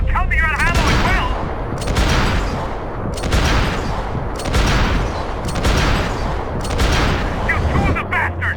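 Dense bursts of gunfire from the video game Max Payne 3 come in repeated volleys roughly every second or so, loud and close with booming impacts, overlapped by shouting voices throughout.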